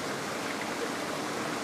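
Steady broadband rush of water pouring out into a koi pond, close and continuous with no breaks and no voices.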